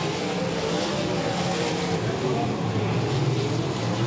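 Race cars at Golden Triangle Raceway Park hold a steady engine roar for the whole stretch, with no clear passes standing out, under a race commentator's continuous talk.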